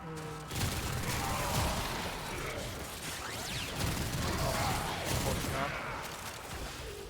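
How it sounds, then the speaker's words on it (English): Automatic gun fire in the video game Warframe, a dense, continuous rattle of rapid shots and mechanical clatter that runs loud for several seconds with only small dips. "it's the auto gun"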